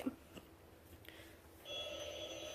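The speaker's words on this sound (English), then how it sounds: "Uh-oh, my phone went off." A phone goes off indoors, a faint electronic ringtone with a few soft tones at first, then a steadier ring rising toward the end, quiet and somewhat distant without talk.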